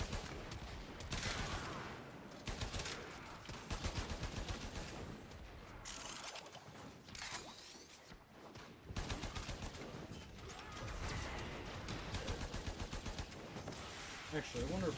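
Braton assault rifle in the video game Warframe firing in rapid automatic bursts, loud and dense, with pauses between strings of shots and game effects layered over the gunfire.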